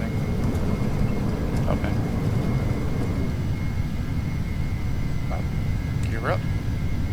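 Jet engine thrust building for takeoff in Flight Simulator X, a steady broadband roar filling the whole clip at constant loudness, with a person briefly speaking over it.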